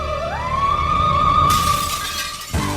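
Glass shatters as a sound effect in an adhesive commercial. A rising, sustained tone leads into a loud burst of bright breaking noise near the end.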